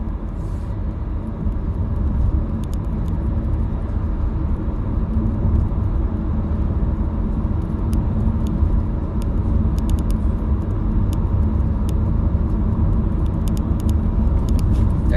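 A car rolls along a road in Savannah, heard from inside as a steady, loud low engine and road rumble that holds without a break for the whole stretch, with faint ticks and clicks scattered on top.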